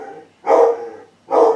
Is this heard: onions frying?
no